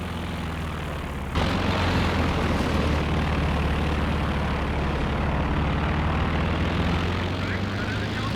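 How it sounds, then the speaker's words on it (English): A suppressing plane flies over a battlefield in Company of Heroes 2, a steady loud propeller engine drone that swells abruptly and holds for several seconds amid distant game noise. "calling in the suppressing plane here as well"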